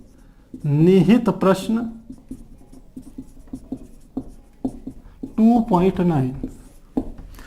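Chalk or marker scratches and taps on a board in short, irregular strokes during a Hindi chemistry lesson, heard between and under a teacher's speech.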